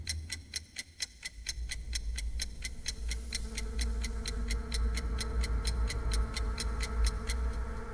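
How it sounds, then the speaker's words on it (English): A clock ticks steadily and evenly, each sharp click repeating about four times a second for the whole stretch, set against a low, constant rumbling drone in an otherwise silent room. "The ticking sound was deafening in the silence."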